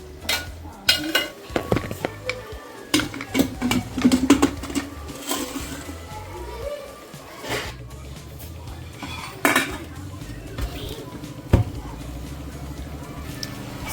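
A metal idli steaming pot is handled while being filled with beetroot idli batter, giving repeated clanks, scrapes and clinks of metal utensils at irregular intervals, close and fairly loud, with quiet gaps between bursts.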